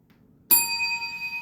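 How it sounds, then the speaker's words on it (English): A single bright bell chime rings out after a moment of silence, its clear metallic tone sustaining and slowly fading. "Put in the bell."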